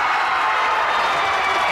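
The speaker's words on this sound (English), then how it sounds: "you can hear the crowd from Holy Cross making a ton of noise as their team has just taken a lead for the first time in the game" Holy Cross fans roaring at a junior boys basketball game as their team takes its first lead, a loud, sustained wall of crowd noise with no break.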